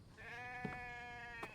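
A goat in a survival video game bleats in one long, steady, tonal cry close by, with a couple of brief clicks or thumps during it.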